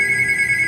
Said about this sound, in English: So okay, that's just my phone.